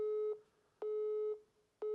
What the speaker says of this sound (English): He's taken his phone off the hook